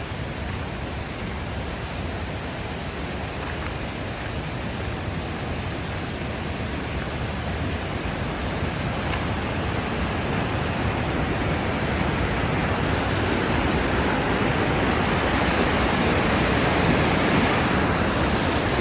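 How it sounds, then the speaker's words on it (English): Mardalsfossen waterfall in the mountains of Norway, a constant broad roar of falling water that swells slightly louder over time, heard alone without talk. "falls just coming down the mountains in between the two main falls"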